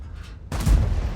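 An E100 heavy tank's main gun fires an APCR round in World of Tanks: a single sudden, loud, close boom that bursts out of near-quiet and rumbles on heavily.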